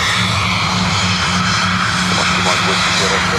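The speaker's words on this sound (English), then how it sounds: "Aircraft off to Malaga." A passenger airliner departing Dublin Airport for Malaga roars with steady, loud engine noise, a broad continuous rumble and whine filling the air without pause.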